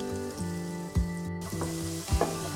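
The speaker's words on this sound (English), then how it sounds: "Just have a quick pan sear for the potatoes." Potatoes and carrots sizzle and crackle in a hot pan, a steady frying hiss with a few louder pops and stirring scrapes.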